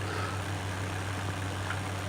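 A Farming Simulator tractor engine labours under heavy load as a steady, droning low rumble with a constant hum, with no break and no talking.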